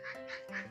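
Ducks quacking in a short run of three nasal calls, close and clear, around a Filipino duck pen where people walk past.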